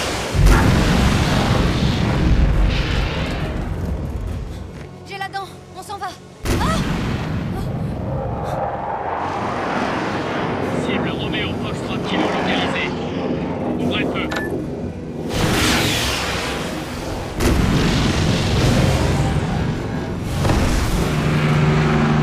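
An action film battle at a bridge: a sustained, loud barrage of heavy gunfire and booming artillery with rumbling blasts and abrupt shifts in intensity. Voices speak under the din.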